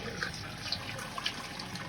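Wort draining from a lifted grain mash bag into the kettle while brewing a rye double IPA, a steady soft trickle and splash with a few brighter drips, close and continuous for under two seconds.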